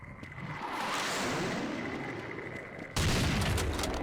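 Dense, continuous hitscan gunfire in the Brutal Half-Life video game: rapid overlapping shots blend into a steady, loud barrage that jumps even harder and heavier for the final second.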